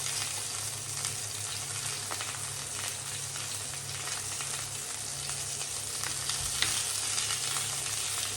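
Black pudding and sausages fry steadily in a pan for a full English breakfast, a continuous close crackling sizzle with scattered pops and no voices.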